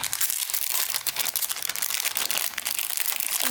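A plastic nail subscription package being opened, with dense, close crinkling and rustling of plastic wrap that runs continuously with no talk.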